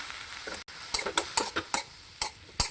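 Spiced food frying in a pan with turmeric, garam masala and salt, stirred in repeated scraping strokes over a steady sizzle, close and fairly loud, with no talking.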